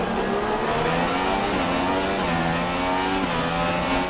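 Formula 1 car engine in the F1 2016 racing game, a loud continuous high-pitched whine that shifts pitch with gear changes as the car pushes through late-race laps.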